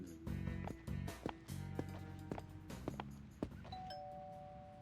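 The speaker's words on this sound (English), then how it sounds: "They take their last few steps to the door and ring the bell." Doorbell chimes ring in a Showdown in Chinatown video game scene, a series of bright tonal dings and sustained ringing notes over a quiet background, ending with a thin held electronic tone.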